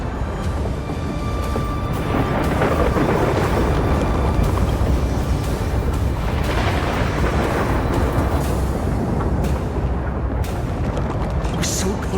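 Thunder from a world-ending storm in Honkai Star Rail, a loud rolling rumble with sharp cracks and booms spread across the span, dense and sustained.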